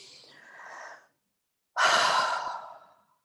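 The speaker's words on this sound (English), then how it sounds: "So let's all take a deep breath right now." A deep breath taken during a Sunday meditation, one soft inhale that fades, a pause of silence, then a long, loud, breathy exhale close to the microphone.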